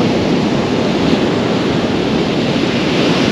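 Big 3 to 4 foot waves breaking on a Holderness Coast beach, a loud, continuous roar of surf with wind noise pressing on the microphone and no distinct individual breaks.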